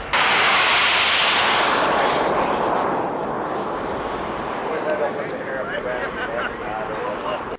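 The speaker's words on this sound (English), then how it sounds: "It is a turbine-powered aircraft powered by the AMT Pegasus motor" AMT Pegasus turbine, burning JP4 fuel, powering a scale model jet aircraft at a Scale Masters event, a loud whooshing jet roar that peaks early and then eases into a steady rushing whine.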